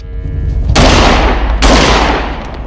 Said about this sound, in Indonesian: terpaksa Hobbs menembak pria tersebut